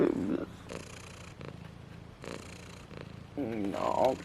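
A domestic cat purrs close by in a steady, rhythmic rumble, while a person talks softly over it at intervals.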